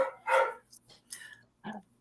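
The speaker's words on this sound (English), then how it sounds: "can anybody hear my dogs right now?" A chocolate lab barks in a few short bursts indoors, fairly close, mixed with background talk on a call.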